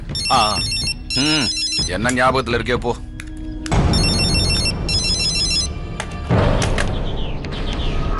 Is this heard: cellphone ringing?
yes